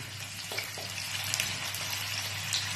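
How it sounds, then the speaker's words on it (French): Chicken pieces sear skin-side down in hot lard or oil for a sautéed chicken with porcini, giving a steady, close crackling sizzle with a few sharper pops. "Nous allons mettre, une fois que le saindoux est bien fondu ou que l'huile est très chaude, les morceaux de viande côté peau en premier."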